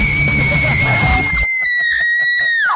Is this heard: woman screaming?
yes